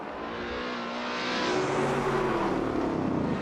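A race car in Assetto Corsa brakes during a simulated championship race, its engine droning steadily and rising slightly in loudness and pitch over a few seconds, close and continuous with no talk.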